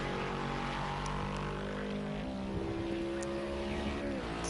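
A GT4 race car engine at partial throttle in a racing game at Monza hums steadily with layered droning tones, pitch stepping up and down as it runs, loud and constant without talk.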